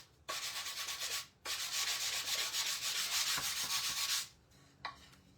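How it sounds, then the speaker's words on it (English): Brush bristles are sanded on a wooden surface in two long, steady, close scratchy passes, then a brief final rub, with no voices. "Let's sand those bristles up."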